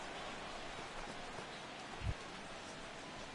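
Steady, soft patter of rain falling in the MLB 16 baseball video game during a San Francisco versus Oakland matchup, a faint even hiss throughout with a single dull thump about two seconds in.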